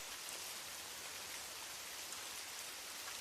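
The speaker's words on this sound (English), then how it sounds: "The rain is still whispering outside" Soft, steady rain falls outside in a continuous faint hiss, even and unbroken, with no voices.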